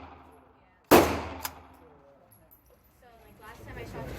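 A NAK9 Draco pistol fires outdoors at a range: one sharp, loud report stands out, followed by a fainter second crack and then quiet ambience.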